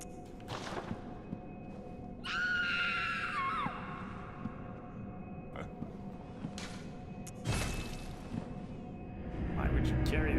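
A shrill, wavering scream from the video game Bloodborne rises briefly over game noise and rumbling, with other short thuds and faint cries around it, while someone talks through much of it.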